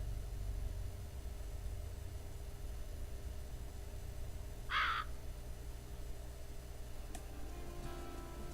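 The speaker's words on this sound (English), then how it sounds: "Why did a crow come up?" A single short crow caw sounds in the game Tokyo Twilight Ghost Hunters, clear but brief, over a steady low hiss and hum.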